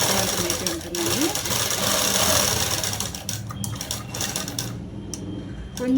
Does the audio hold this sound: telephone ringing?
no